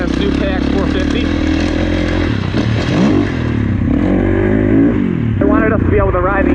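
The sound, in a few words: Kawasaki KX450 gas dirt bike engine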